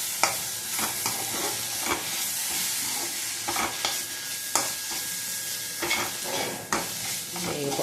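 Ginger garlic paste fries in a hot pan with a steady bright sizzle and hiss. A spoon scrapes and stirs at intervals, giving sharp clicks and scrapes over the continuous crackle.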